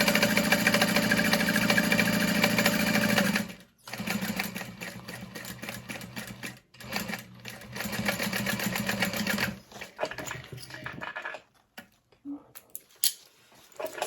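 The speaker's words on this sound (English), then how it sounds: "And then I'll just sew about 1/8 of an inch from that folded edge" Sewing machine stitching close to a folded fabric edge while making a bag, a fast steady whirring rattle in long runs broken by brief pauses and stops, with short clicks near the end.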